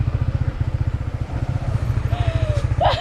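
A motorcycle is ridden along a narrow cliff path, its engine chugging in a steady rapid pulse, close and loud, with a brief higher whine and a clatter near the end.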